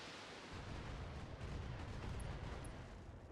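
Mech weapons fire in the BattleTech video game, a steady heavy rumbling barrage of booming impacts and blasts rolling on continuously, with no talk.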